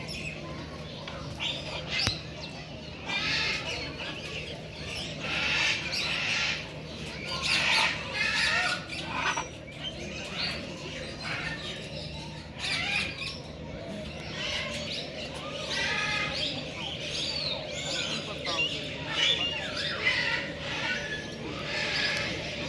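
Peacocks and other birds squawking and calling repeatedly over about twenty seconds at Lake View Park, Islamabad, moderately near, with occasional voices of people talking nearby.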